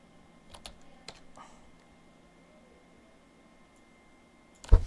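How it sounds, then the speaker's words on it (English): Computer keyboard keys being clicked during an online racing league broadcast, a few scattered close taps early on, then quiet, ending in a louder sharp click burst. "I'm just clicking random buttons now"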